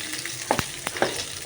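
Onions sizzle in a frying pan while cooking tinolang manok, a soft steady crackle with a few brief louder pops and stirring clatters.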